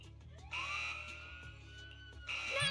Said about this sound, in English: The alarm went off!